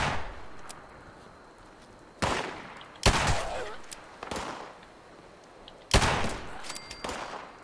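Shotgun blasts in Fallout 76, several loud sharp booms spaced irregularly with decaying tails, over a low game backdrop.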